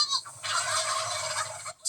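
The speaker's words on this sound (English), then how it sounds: "Look, a flock of turkeys." A flock of turkeys gobbles loudly and close by, one short burst of overlapping rattling calls lasting just over a second.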